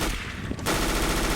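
Rapid automatic MP9 submachine gun fire in a Counter-Strike match, a dense sustained burst that starts abruptly partway through and carries loud and close to the end.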